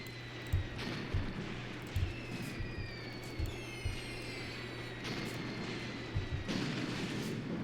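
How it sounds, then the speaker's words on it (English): Mortar fire on German lines in the Graviteam Tactics: Mius Front World War II video game, a series of faint distant thumps at irregular intervals over a low steady rumble, with occasional rising whistle-like tones. "Our mortarmen are doing a really great job in this battle, softening up the German lines."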